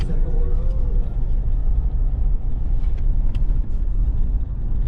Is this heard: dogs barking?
no